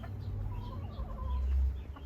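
A rooster with two-inch spurs clucks and mutters in short soft bursts outdoors, moderately close, over a steady low rumble of background noise.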